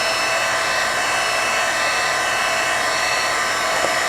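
Loud, close heat tool blows continuously while drying craft paint, a dense even hiss-roar with no pauses or voices.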